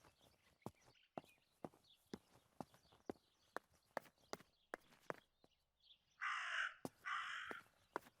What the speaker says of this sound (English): That raven is making a big fuss.